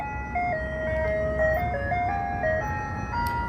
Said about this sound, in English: This ice cream truck passing by